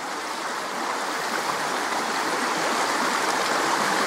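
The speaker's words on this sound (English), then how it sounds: "because it's such a fast flowing river" Fast-flowing river with a steady, broad rushing and splashing of water, loud and close, rising slightly throughout.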